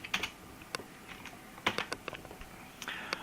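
Computer keyboard keys clatter in short, uneven bursts as an axis title is typed into a spreadsheet chart, close and crisp with brief pauses between keystrokes.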